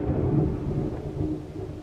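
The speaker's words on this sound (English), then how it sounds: "so you might hear some thunder like that, or some rain hitting the roof" Rumbling thunder rolls steadily through a storm, a low continuous roar with rain faintly mixed in, loud and sustained with no break and no voices.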